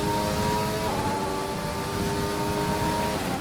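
A Formula 1 car engine in F1 2020 drones at high, steady revs during a race in Canada, a loud continuous whine throughout with no talk.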